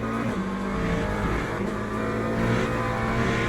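A GT3 race car engine from the Le Mans Ultimate racing game drones loudly and steadily throughout, its pitch shifting slightly as the car is driven, with no talking.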